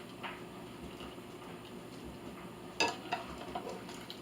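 Cooked macaroni is stirred into a pot of chili, with a low wet churning texture near the pot and a sharp metallic clink of a utensil against the pot near the end.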